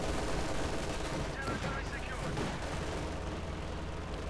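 Machine-gun fire from an MG42 in a Company of Heroes 2 match rattles on steadily with dense battle noise, explosions and gunfire packed together at constant loudness across the stretch, partly under a commentator's voice.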